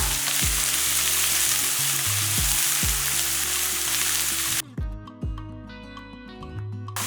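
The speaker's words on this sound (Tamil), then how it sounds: "எல்லாமே போட்டுட்டு நல்லா வதக்கிக்கலாம்" Kashmiri chilli powder and spices sauté in a pan, a strong steady sizzle under repeated spoon scrapes and knocks against the pan, with the frying noise cutting away abruptly near the end while the stirring clatter continues.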